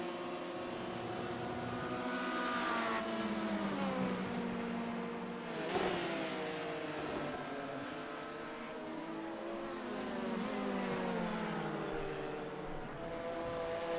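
LMP prototype race cars lapping Silverstone in a sim racing game: a sustained high engine whine with rising and falling pitch sweeps as cars accelerate and pass, one sharper swell near the middle, no talk.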